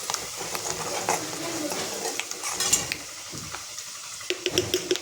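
Food sautés in a pan with a light sizzle under frequent scraping and clinking of a spoon against metal, close by, and a voice speaks intermittently.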